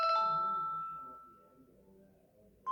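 Samsung Galaxy "Shiver" ringtone on a Galaxy Watch 7: a single glassy chime struck once that decays slowly over about two seconds, heard clearly with no other sound.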